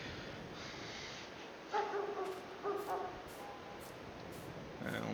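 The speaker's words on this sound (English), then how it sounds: "somebody's dog's barking" Dog barking somewhere out of sight in a neighbouring yard, a few short bursts of barks at moderate distance over steady outdoor background noise.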